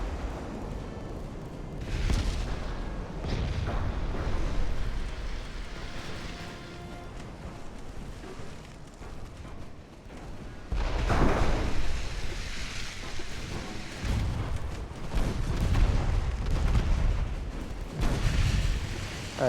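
Heavy warship guns boom in the naval battle game Ultimate Admiral: Dreadnoughts, with loud broadband blasts near 2, 11, 14 and 18 seconds rolling over a constant low rumble of sea and battle ambience, no voices.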